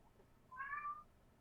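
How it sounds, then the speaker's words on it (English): A single drawn-out cat meow, fairly soft and close, rises briefly above a quiet room background with no one speaking. "I guess that cat answers the question."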